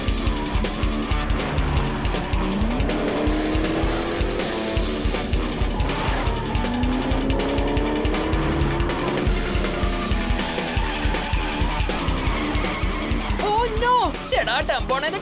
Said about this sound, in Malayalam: ഇപ്പോഴാണ് എന്റെ കാർ സ്റ്റാർട്ട് ആയെന്നാ തോന്നുന്നേ.